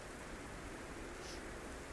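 Heavy rain from a storm in Red Dead Redemption 2 hisses as a dense, steady wash of noise, unbroken and fairly close, with no voices over it.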